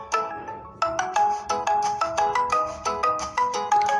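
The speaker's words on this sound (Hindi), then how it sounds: "यहाँ पर एक फ़ोन आ रहा है" A mobile phone ringtone plays for an incoming call, a bright repeating melodic chime pattern that comes in regular pulses, loud and close, with no talking.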